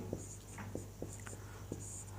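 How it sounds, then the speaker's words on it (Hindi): Chalk or marker strokes on a board during a Sanskrit lesson, a handful of short scratchy taps spaced irregularly, faint and close, over a low steady hum with soft whispery breath. "तो यहाँ पर हम लिखेंगे"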